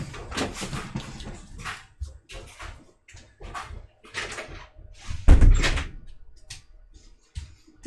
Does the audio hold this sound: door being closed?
yes